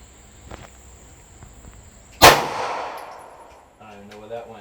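A single sharp gunshot at a target cracks out loud and close, followed by a decaying ring, with faint ambient noise before and a voice starting right after.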